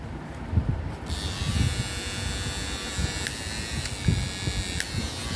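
A rechargeable electric shaver with a charging cable, priced at 1500 rupees, switches on about a second in and buzzes steadily at close range, with a bright whine, under background chatter and wind.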